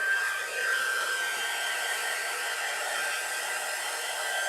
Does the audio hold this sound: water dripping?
no